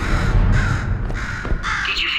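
A crow caws repeatedly in the video game Portal 2, harsh calls rising and falling over a steady low ambient hum, fairly close and alone with no talk.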